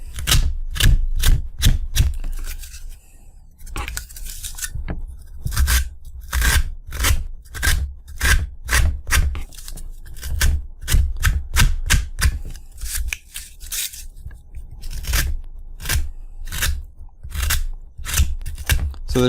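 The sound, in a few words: hobby knife (X-Acto blade) whittling a model part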